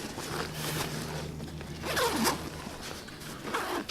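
A zipper is pulled open on the main compartment of a Mardingtop 40L rucksack, giving several close, raspy runs of the slider in a quiet room.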